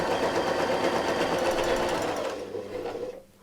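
A sewing machine quilts an arc along a circular ruler, a loud, close, rapid stitching whir that runs steadily, then slows and fades into quiet at the end.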